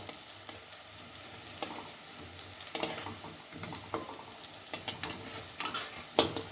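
Medu vada frying in hot oil, a steady close crackling sizzle with scattered sharper pops and spits throughout, no talking.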